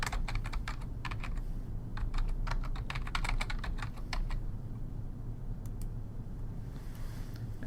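Rapid keystrokes on a computer keyboard while logging in as an administrator, clustered bursts of close clicks over a steady low background hum, pausing briefly before a few final taps.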